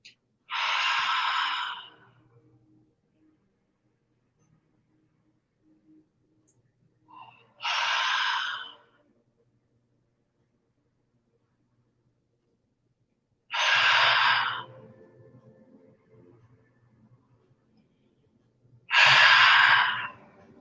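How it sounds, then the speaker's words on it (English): Four long, deep exhalations during a morning breathing exercise, each a breathy rush lasting about a second or two, spaced several seconds apart with quiet pauses between, close and fairly loud. "And breathe out completely."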